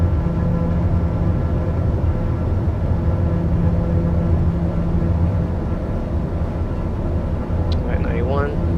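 A light aircraft engine holds steady at full takeoff power in Microsoft Flight Simulator during a departure from Opa Locka, a loud continuous drone and rumble with a brief higher chirp near the end.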